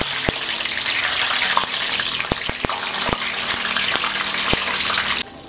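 Eggplant frying in hot oil for a stew, a steady loud sizzling hiss punctuated by scattered sharp pops and crackles, cutting down abruptly at the end.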